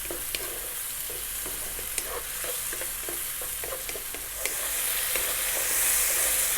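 Tomatoes with cumin sizzle and fry in a pan for shakshouka, a steady hiss with occasional stirring taps and scrapes, close and fairly loud.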